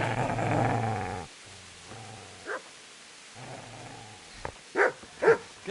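A dog growls low and rumbling, then gives a few short, sharper yips and snarls near the end. Close and fairly loud, with brief quiet gaps between bursts.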